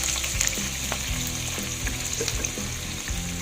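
Ingredients sizzle and fry in a pan while miswa noodle soup is being cooked with chili and garlic, a steady close crackle with occasional stirring clatter and no talk.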